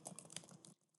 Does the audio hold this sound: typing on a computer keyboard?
yes